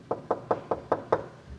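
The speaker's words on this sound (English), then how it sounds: "I'm doing my most gentle, courteous knock." Six soft, evenly spaced knocks on an office door, close and gentle, with a steady rhythm and no voices.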